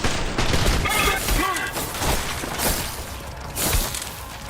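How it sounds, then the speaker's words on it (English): Game gunfire from Trepang 2 rattles through a dense mix, with bursts of rapid shots and impacts layered over loud action sounds and some voice activity throughout. "I think that was just a machine gun, too."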